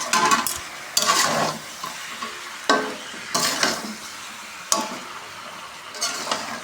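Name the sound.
meat being stirred and fried in a pan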